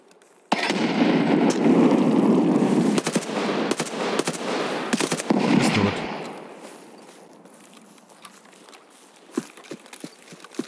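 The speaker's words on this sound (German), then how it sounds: "Hui, Schuss auf mich, Sniper." Rapid gunfire from a sniper engagement in the video game Escape From Tarkov on the Shoreline map, a loud dense burst of shots and cracks for several seconds, then fading to quieter scattered sounds and faint later reports.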